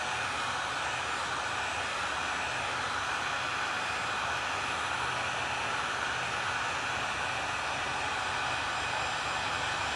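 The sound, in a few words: hair dryer drying paint on a bee welcome sign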